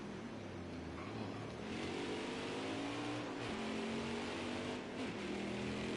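Racing trucks in a video game running side by side into turn one at Watkins Glen, engine tones rising and falling through gear changes in a continuous, loud drone with no pause.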